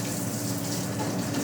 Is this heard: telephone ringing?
no